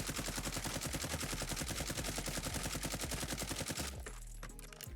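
An assault rifle fitted with a Commando foregrip fires full auto in the video game Warzone: a dense, even stream of rapid shots for about four seconds, then an abrupt stop and a fading echo.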